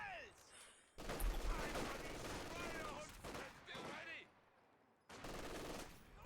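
Machine gun fire in a World War II-style competitive video game match, with sustained loud bursts of rapid shots, a brief lull, then another burst, and scattered distant gunfire around them.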